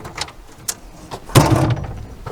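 A stainless steel fold-down panel on the barn door of a Nissan Patrol is lowered, a short metallic clunk and rattle following a few faint clicks, close and fairly loud.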